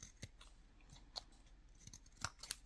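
Scissors snip paper trimmed for a papercraft junk journal, a few faint, sparse cuts close by in a quiet room.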